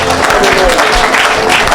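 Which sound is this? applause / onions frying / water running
applause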